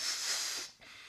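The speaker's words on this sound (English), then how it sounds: "excuse me for breathing that air into the balloon" Breath pushed hard into a balloon makes a close, airy hiss lasting most of a second, then a short pause and a fainter second puff.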